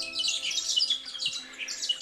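Birds call and chirp in Tasmania's South West wilderness, a quick run of bright, high tweets and squawks from several birds at moderate distance, with no one talking.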